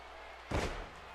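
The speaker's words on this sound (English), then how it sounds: "just scoop slams him into the canvas even" In WWE 2K14, a wrestler is scoop-slammed onto the canvas: a single heavy, muffled thud lands mid-clip over a low background hum.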